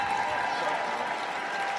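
A crowd at a Berlin UCI Trials World Cup elite men's 20-inch bike final sends up a steady roar of applause and cheering from nearby, with voices mixed into the wash of noise.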